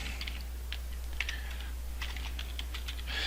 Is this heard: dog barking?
no